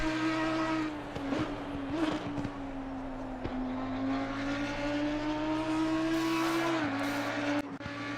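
Simulated race car in a racing game carrying speed through a corner, a steady high engine whine that sags slightly mid-corner then climbs, with a shift and faint tyre scrub near the end, no voices.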